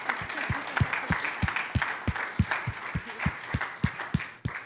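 A church congregation claps together in a steady, even rhythm, sharp close-up claps repeating about every third of a second over a murmur of voices.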